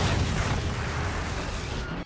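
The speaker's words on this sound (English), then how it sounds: "as he sets up an explosion" A villain's rigged explosion in the Hot Wheels movie, heard as a sustained, loud rumbling blast that fills the whole two seconds with dense low-end roar and no voices over it.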